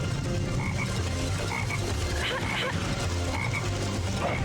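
Frog in a video game croaking repeatedly, a throaty, pulsing croak over a dense, steady ambient game soundscape.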